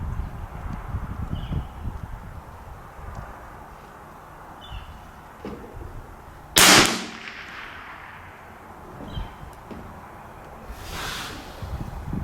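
A single loud rifle shot cracks out at a 50-yard bench rest range, sharp and close with a brief decaying tail, set against steady outdoor wind and faint background noise.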